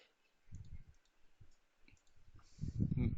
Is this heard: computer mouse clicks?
yes